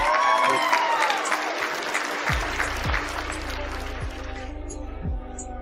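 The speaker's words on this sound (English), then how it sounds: "Give her a round of applause, please, Annie." Applause from an audience in an online session, dense clapping at the start that gradually thins and softens, with a low steady hum and some distant tones running underneath toward the end.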